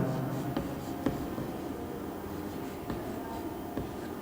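Chalk scratches and taps against a board in a series of short, irregular strokes, faint and close, over a low room hum.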